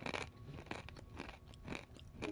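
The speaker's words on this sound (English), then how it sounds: "You can tell by the sound of my chewing, my crunching" Someone chews and crunches peanuts close to the microphone, a quiet series of crisp crunches and wet mastication sounds repeating irregularly with no talking.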